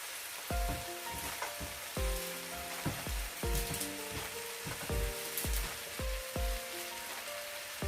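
Beef chukka with curry leaves sizzles steadily in a pan, a close, constant crackle with a few hard clanks of a utensil against the pan at irregular intervals.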